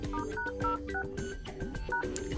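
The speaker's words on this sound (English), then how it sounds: "The first one is to open your phone dialer and provide a secret code," A OnePlus Nord 2 5G dialer keypad beeping as a code is entered: a quick sequence of about a dozen short, clear touch tones in uneven rhythm, close and alone.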